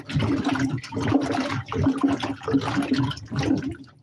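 Potatoes washed by hand in a container of dirty water, on the third rinse: continuous splashing and sloshing with rhythmic swirls close by, steady and fairly loud, with no talking.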